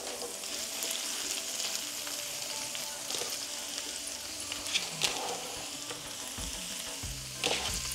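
Mushrooms and spring onions fry with ginger in a pan, giving a steady close sizzle with bursts of crackle and a few stirring scrapes near the end.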